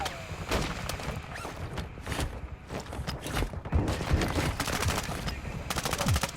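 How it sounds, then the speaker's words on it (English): Rapid machine-gun bursts and scattered rifle shots in a Call of Duty firefight, loud and close, repeating in clusters over a continuous din of combat with brief radio-style voice callouts. "Taking effective fire."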